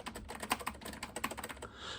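Typing on a mechanical Apple ADB keyboard for a vintage Macintosh SE, a quick run of crisp, close clicky keystrokes with uneven rhythm, alone without speech.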